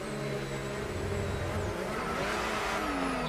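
An Aston Martin F1 car spins in a racing game at Montreal: loud engine revs rise and fall unsteadily with a brief tire-like screech, continuous and close throughout.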